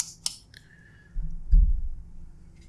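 Scissors snipping through paracord strands, a couple of crisp close clicks near the start followed by quieter handling rustles and soft thuds, with no talk.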